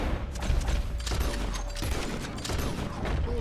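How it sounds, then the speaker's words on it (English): Gunshots in Red Dead Redemption 2, fired at an O'Driscoll enemy through a tree: repeated loud cracks in close succession over a dense, noisy in-game backdrop. "I just shoot him through the tree."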